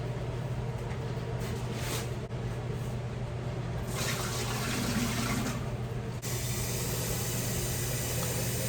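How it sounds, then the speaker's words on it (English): Water runs into an empty canner pot in a steady, continuous rushing pour that shifts slightly in tone as the pot fills, with a low hum underneath and no speech. "Let's get some water in it."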